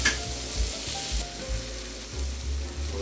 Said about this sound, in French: On veut juste cuire légèrement le saumon afin de pouvoir l'émietter.